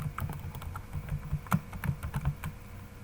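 Keys on a computer keyboard clack in a quick, uneven run of close taps while data is typed into an Excel salary-slip sheet, with a low hum behind and no voice.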